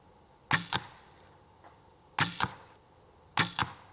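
Arrows shot through a sheet of paper, three separate shots each giving a sharp paired snap and rip, close and clear against quiet background.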